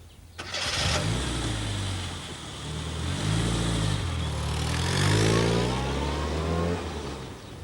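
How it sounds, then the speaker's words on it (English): A Mini Minor car engine cranks and catches abruptly, then revs up and down through several loud swells before settling near idle, heard close and alone. "So I bought my first car, a Mini Minor."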